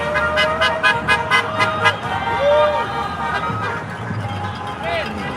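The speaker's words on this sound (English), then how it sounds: "Everyone's honking." Car horns honking from vehicles at a street rally and cosplay parade in Calgary, repeated toots from several horns near and far over traffic noise, with voices talking throughout.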